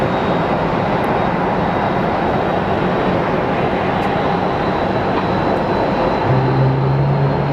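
A WestJet airliner coming in to land at Phoenix Sky Harbor International Airport, heard as a continuous loud broadband jet roar that holds steady and swells slightly near the end.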